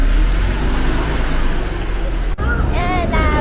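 A car drives through Manila toward the domestic airport, heard from inside as a steady, loud road-and-engine rumble; muffled voices come in toward the end.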